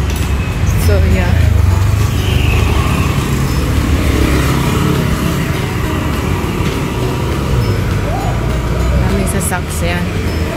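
Steady traffic rumble from cars and other vehicles on a busy road in Bangkok, with a car passing close by, loud and continuous, while someone talks over it.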